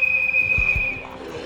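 In the video game Project Zomboid, a whistle blows one sustained, piercing shrill tone that fades out after about a second, loud and close, with faint low thumps beneath it.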